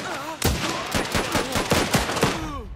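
Machine gun fire in the World War era video game Last Train Home crackles as a rapid string of sharp bursts, roughly a shot every few tenths of a second, with clanking and whistling effects among them.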